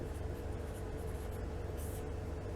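Pen on paper for an IELTS listening answer, a steady soft scratching of handwriting that runs continuously and close for a couple of seconds.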